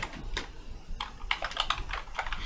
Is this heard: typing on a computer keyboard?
yes